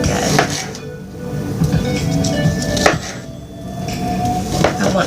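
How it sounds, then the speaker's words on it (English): A knife cuts pork chops into small pieces on a board, giving a few distinct thuds and knocks spaced over dull scraping and handling, close by with no speech. "I'm going to cut these up in little pieces."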